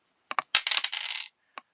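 Dice for a Strat-O-Matic baseball game clatter on a hard surface in a quick burst of rattling clicks, then one last small click after a short pause.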